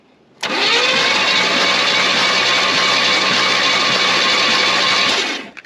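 Long-neglected Pontiac Grand Prix engine turns over and catches, running loud and steady for about five seconds before cutting off, with no talk over it.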